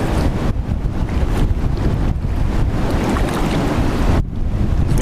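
Strong gusty wind buffets the microphone during a kayak trip, a loud continuous roar with surging gusts and brief dips, mixed with water noise and no voices.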